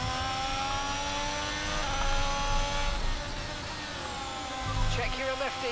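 Haas Formula 1 car engine in F1 22 at the Australian Grand Prix, the car sliding on worn tyres: a steady, high whining engine drone throughout, rising slightly in pitch, with a brief lower burst near the end.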